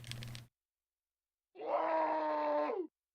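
Screams in the Chibi-Robo video game: a brief sound cut off, then silence, then a sustained moaning, wailing cry of over a second that ends abruptly.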